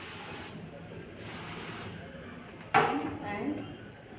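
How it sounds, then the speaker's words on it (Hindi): Hair spray sprayed onto styled hair in short hissing bursts, two spaced puffs followed by a sharper burst, faint and close with handling sounds around. "स्प्रे,"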